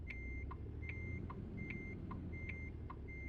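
A truck in American Truck Simulator backing a trailer, its reversing alarm beeping in an even, steady rhythm about twice a second over a low engine rumble.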